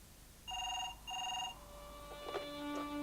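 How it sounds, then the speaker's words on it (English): A telephone rings in two clear electronic bursts, then falls quiet as faint clicks and a handset tone follow, heard fairly close in an otherwise still room. "the phone rang"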